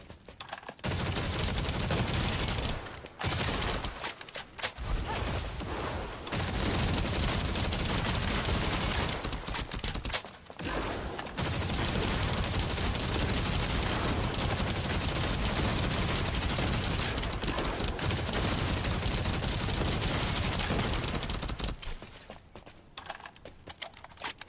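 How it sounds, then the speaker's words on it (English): Sustained, very loud automatic gunfire from a weapon in The First Descendant, a dense unbroken rattle of rapid shots lasting many seconds with a few short pauses before it cuts off near the end. "Holy crap, that gun is loud."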